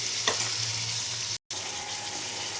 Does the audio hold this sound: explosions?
no